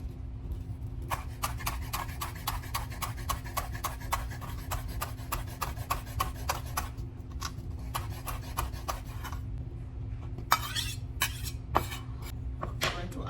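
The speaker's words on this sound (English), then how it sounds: "And I'm going to go ahead and cut up some chives." Knife chopping chives on a cutting board, a fast run of crisp, evenly spaced taps that pause midway, then a few louder, sharper strikes near the end over a steady low background hum.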